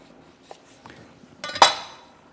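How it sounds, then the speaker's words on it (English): A Cutluxe santoku knife slicing very thinly through produce on a board, a couple of soft taps followed by a single sharp blade-on-board clack with a metallic ring that fades out, close and alone. "I'm going to try and cut a really thin slice with the santuku."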